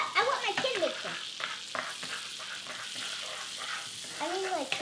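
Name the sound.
butter cooking in a pan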